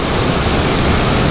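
A waterfall rushes nearby as a dense, steady broadband roar that fills the short moment evenly, loud and alone.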